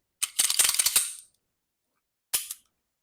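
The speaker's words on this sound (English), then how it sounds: "Got a dry fire." An everyday-carry handgun gives a quick run of crisp metallic clicks and rattles, then silence, then one more short sharp click, all close and with no talking.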